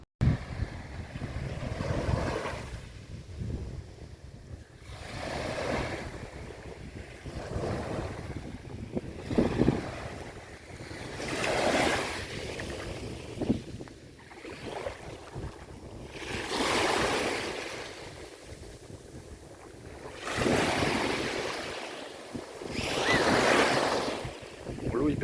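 Sea waves wash in at high tide on the coast at Dragey-Ronthon, swelling and receding in slow, loud surges every few seconds against steady wind rumble.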